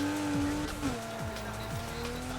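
Racing video game car drifting, its engine droning steadily while tires squeal in long sliding tones that bend and shift pitch, continuous and fairly loud with no one talking.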